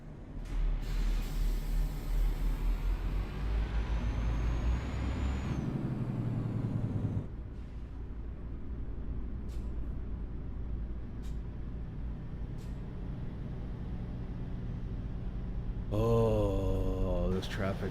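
Road traffic and trucks in Euro Truck Simulator 2, with a steady engine rumble and a sharp air-brake hiss early on, then a continuous drone broken by light ticks and a rising whine near the end.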